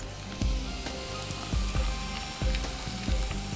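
Finely chopped garlic sizzles in hot oil, a loud, close, continuous fizz with rhythmic clanks from stirring at roughly one-second intervals.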